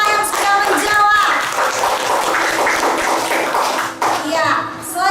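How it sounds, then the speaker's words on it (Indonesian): Classroom applause for a group of junior high school students who just answered, a burst of clapping that swells and then thins, mixed with children's voices chattering close by. "kita beri aplaus untuk kelompok 5 yang sudah menjawab"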